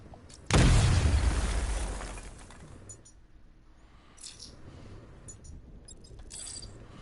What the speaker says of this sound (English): You get close and apply the explosive directly to destroy that wall.